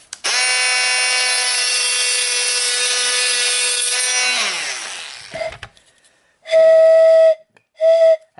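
A long, loud grinding rasp on a pan pipe made of Japanese knotweed stops, and then the pipe is blown twice for the note E. Two clear, breathy whistling tones follow: one about a second long and one shorter.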